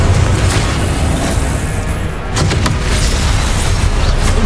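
A Confringo spell blasts in Hogwarts Legacy, a loud, sustained booming explosion with rumbling debris that dips briefly midway, then surges again with sharp bursts.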